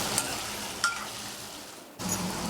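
Half-cooked potatoes frying in oil over a moderate flame, a steady close sizzle with a few clinks and scrapes as they are gently stirred, briefly quieter before the sizzle returns; no talking.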